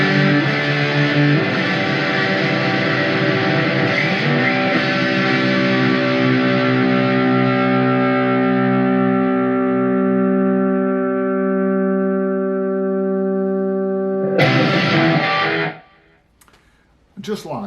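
An electric guitar with fresh strings and newly refretted frets, heard as a strummed chord ringing out through distortion and effects and decaying slowly, followed by a sharp new strum near the end.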